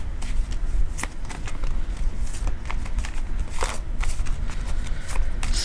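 Tarot cards being shuffled by hand to draw a card, a steady run of soft close flicking and slapping with scattered sharper snaps, continuous throughout and alone without talking.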